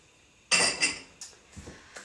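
A lid set onto a stew pot of chicken pot pie stew: one sharp metallic clank, then a few lighter rattles and clinks as it settles, close and clear.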